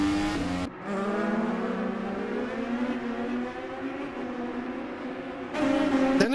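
An IndyCar race car engine on the Cleveland track screams at high revs with a steady, sustained whine. The pitch shifts as the car passes, with a brief dip near the start and a surge near the end.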